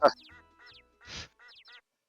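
Cartoonish duck quacks from the puzzle video game Crisis 2nd Edition: a loud opening squawk followed by a string of short, clipped quacks in quick succession, clean and close over silence.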